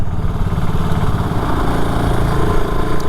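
Loud, steady engine drone of a BSA Gold Star motorcycle being ridden along country lanes, heard close with a continuous throbbing exhaust and no pauses.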